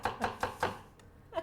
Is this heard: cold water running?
no